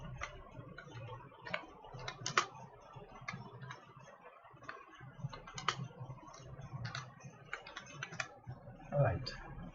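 Keys tapped on a computer keyboard while laying out an admission form in Microsoft Word, a quiet, irregular patter of clicks close by, with a short pause midway and a slightly busier burst near the end.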